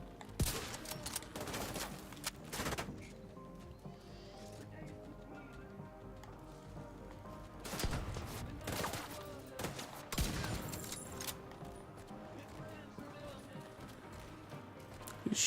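Enemy gunfire in The Division 2 rings out in sharp bursts of shots with short quieter stretches between them, set against a busy game soundscape.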